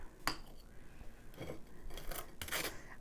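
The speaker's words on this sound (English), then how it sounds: "we're going to butter the toast" A knife spreads butter across a slice of toast on a kitchen countertop, giving a few short, dry scraping strokes in separate bursts, close and moderately quiet.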